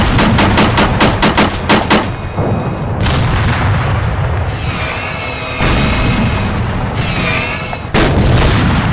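Artillery fire in Arma 3, the military shooter game, booming loudly and almost continuously. Rapid repeated blasts come first, then heavy rolling explosions with crackling tails follow one after another, with no talking.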